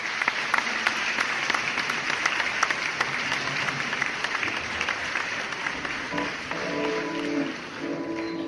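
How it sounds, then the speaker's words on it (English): A round of applause from a recital audience welcoming a singer from Uasin-Gishu, Kenya, about to perform a Spanish song; dense, sustained clapping fills the room for several seconds and fades slightly at the end. "Let's give him a round of applause."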